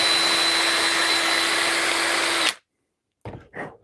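A power case trimmer cuts Lake City .308 rifle brass for an AR-10 with a loud, steady whirring drone for about two and a half seconds. It then cuts off abruptly, followed by a couple of brief knocks.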